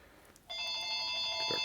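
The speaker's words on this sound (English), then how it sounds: "I'll get the phone." An electronic telephone rings in a motorcycle workshop during a 1992 Harley-Davidson Evo 80ci engine rebuild. A steady, bright, multi-tone trill starts abruptly after a quiet moment and holds loud and unbroken to the end.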